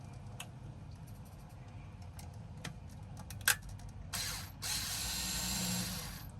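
A screw comes out of a Traxxas Sledge RC truck differential as scattered light ticks and clicks, then a sharper click and a short burst of tool rasping near the end, all close and quiet with no talk.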